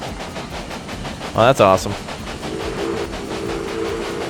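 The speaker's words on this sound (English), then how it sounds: "let's check out the train as we're crossing here" Train rolling over tracks in the railway video game Railway Empire during a Gold Rush scenario, a continuous steady rumble with a soft rhythmic clatter, while a voice briefly exclaims over it.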